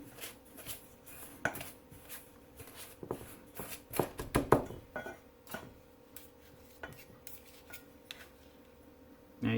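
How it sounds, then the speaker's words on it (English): A pastry knife works room-temperature butter into flour and sugar in a bowl, giving repeated scraping, chopping clinks against the dish in irregular bursts, close and moderately loud, with a brief clatter near the end. "I'm using a pastry knife to blend it in."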